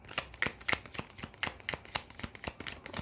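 Tarot cards being shuffled and drawn, giving a quick run of crisp riffling snaps and slaps at an irregular rhythm, close and fairly loud, with no talking.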